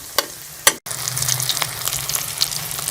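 Chicken and vegetable kababs sizzle in oil in a pan over medium heat, a steady close crackle broken by a couple of sharp clicks and a brief clatter near the start.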